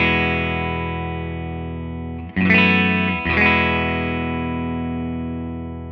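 Telecaster on its middle pickup position played through a Quilter Custom Shop amp with an Eminence GB 128 speaker: a sustained chord rings out, is briefly cut, then is restruck twice around the middle and decays slowly, loud and close.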